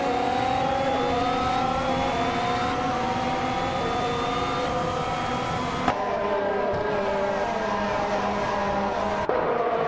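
Race cars accelerating at the start of a Twin-Ring Motegi GP race in a racing video game, with a 2014 Force India VJM007 on pole: several engines whine steadily upward through the gears, close and loud, with repeated rising pitch sweeps as gears change.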